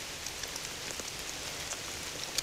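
Rain falls steadily on a vegetable garden, a soft continuous patter with scattered individual drops ticking nearby.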